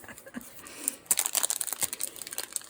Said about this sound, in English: No, all I did was rip it.